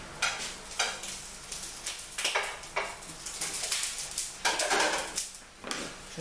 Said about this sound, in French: Je surveille les aubergines qui sont en train de griller